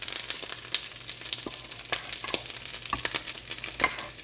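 Königsberger Klopse meatballs go back into a hot pan, with steady sizzling and a series of sharp clicks and scrapes close up, no voices.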